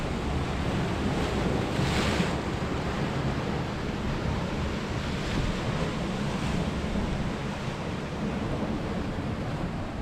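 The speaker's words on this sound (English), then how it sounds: "Look at this wave right here." Large ocean waves break and surge against the rugged Scottish coast, a loud, continuous roaring wash with heavy wind buffeting the microphone throughout.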